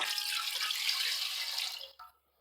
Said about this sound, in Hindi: उसमें हम शामिल कर लेंगे 1 लीटर पानी